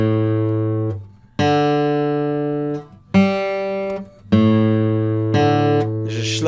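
A guitar's A string, newly fitted with light gauge strings, is plucked several times, each note ringing clearly and decaying before the next, loud and close with no talking.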